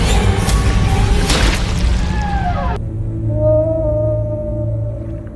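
Orca whale calls in a film, with rising and falling tonal whistles over a heavy low rumble and splashy crashing water, then ringing on alone after a sudden drop.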